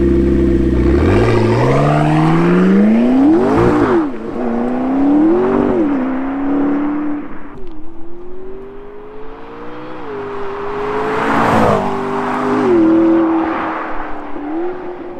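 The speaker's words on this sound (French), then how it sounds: "c'est qu'on aille démarrer cette incroyable 650S et qu'on aille rouler avec." A McLaren 650S sports car engine fires up with a loud rising roar, then revs repeatedly and pulls away, its pitch climbing and dropping through gear changes, close and powerful with mechanical whir.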